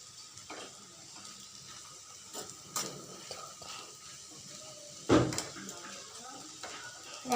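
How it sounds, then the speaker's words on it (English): A fork stirs and tosses street-style veg chowmein noodles in a pan, with soft scraping and a few light metallic clinks against the cookware over a quiet background, including one brief louder clatter. "From fork only I am mixing."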